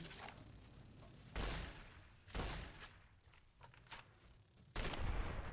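Shotgun blasts in Fallout: New Vegas, three or four sharp booming shots spaced a second or so apart, fairly close and punchy against quiet game ambience.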